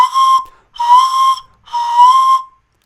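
A panflute plays three breathy sustained notes, each bending downward in pitch while its tone colour shifts, separated by short silences, loud and close with no talk.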